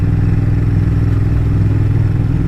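A motorcycle engine drones loud and steady during a ride through Weston-super-Mare, a constant low rumble with wind rushing over it and no change in pitch.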